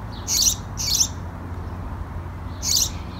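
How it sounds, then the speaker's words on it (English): A small bird nesting in a hole in a house roof squawks in three sharp, high bursts, two close together and then one after a pause, over a low steady outdoor background hum. "that little bird behind me. She's up there."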